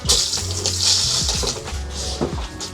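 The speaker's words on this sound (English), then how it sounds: "you're gonna pull this lever, and then water is gonna flush through" Water rushing through the flushing kit of a Satellite Maxim 3000 porta potty after its hand lever is pulled, a close gurgling gush that surges and churns for a few seconds.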